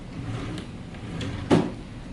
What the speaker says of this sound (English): Those rollers should fall into your drawer slide.